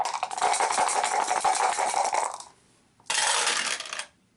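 Three dice rattle and tumble across a table during an Arkham Horror board game, a dense clattering roll lasting a couple of seconds, then a brief pause and a second shorter rattle, close and loud with no talking.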